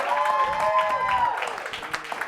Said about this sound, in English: 20s, make some noise.